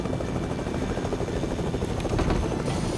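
Fortnite helicopter rotor thrums loud and continuous, a close steady chopping drone with no breaks and no voices.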